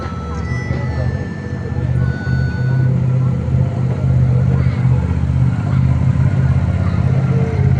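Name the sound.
military all-terrain vehicle engine in Republic Day parade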